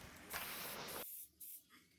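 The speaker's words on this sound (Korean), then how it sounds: "왕센 스프레이를 듬뿍 뿌려가지고 고정을 좀 해주셨습니다" Setting spray misted generously over a finished makeup look, a sustained close aerosol hiss of about a second that cuts off abruptly, followed by a shorter second burst.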